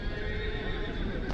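A horse whinnies amid a busy Kyrgyzstan horse market, with a steady background of hooves and crowd murmur and a brief louder thump near the end.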